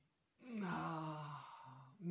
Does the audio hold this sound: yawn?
yes